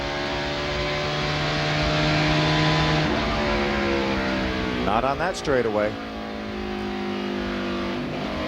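Onboard engine sound from Ken Schrader's ARCA race car at Gateway International Raceway: a loud, steady drone that climbs in pitch, with a brief rising sweep partway through, under a voice-over.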